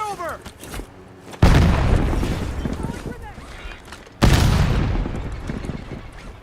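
Two heavy bomb blasts in Call of Duty Warzone, each a sudden loud boom that fades into a long rumbling tail, with voices talking around them.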